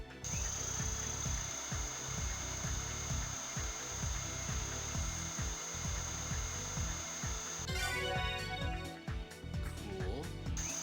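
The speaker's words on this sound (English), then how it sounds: "Now to place holes for the screws. Prepare the drill." A surgical drill in the Trauma Team video game whirs in repeated short, rhythmic pulses as it bores screw holes, with a brighter grinding burst near the end; a game tone hums steadily underneath.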